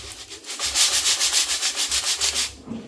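Crispy air-fried moong dal namkeen tossed by hand, a dry rustling crunch of small fried lentils rubbing together in steady pulses, close and fairly loud with no talking.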